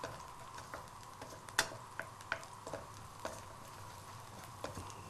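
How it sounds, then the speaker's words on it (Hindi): Onions being stirred in a karahi, with sparse light utensil ticks and scrapes scattered over a faint, steady low sizzle, quiet and close. "यहाँ पे हम थोड़ा सा इसको थोड़ा सा हिलाएंगे"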